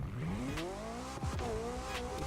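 An expensive video game car pulls away hard, its engine note climbing in rising, revving sweeps with brief tire squeal, loud and close throughout with no talking.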